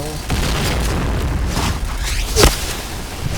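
Grenade blast in the shooter game Point Blank during a clan war match, a single short burst near the middle over constant game noise and chatter from players.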